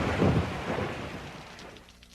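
A storm brings a low rumble of thunder that swells and fades over a couple of seconds, over a steady wash of rain falling on surfaces, with no voices.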